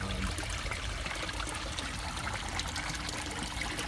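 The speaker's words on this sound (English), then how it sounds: "And there's that bubbler right there." A bubbler running in the corner of a backyard koi pond, a close, continuous burbling trickle of running water that stays steady and fairly loud throughout, with no voices.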